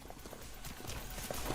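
Horse hooves clip-clopping in the video game Sacred 2, a steady run of soft hoofbeats over a dense game soundscape, growing slightly louder toward the end.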